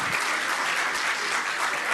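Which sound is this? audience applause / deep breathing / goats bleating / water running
audience applause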